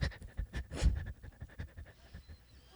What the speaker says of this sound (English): I'm just practicing my breathing for Lamaze class